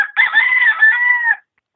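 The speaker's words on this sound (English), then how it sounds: "He is a Sumatran game rooster." A Sumatran game rooster gives a single loud, close crow, a sustained, slightly wavering call that stops abruptly into silence, heard alone with no talking.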